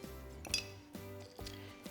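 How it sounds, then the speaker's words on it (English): Ice cubes clink into a cocktail glass for a cucumber margarita, a few quiet, bright taps and rattles spaced unevenly, close but faint. "I'm just gonna fill my glass now up with some ice"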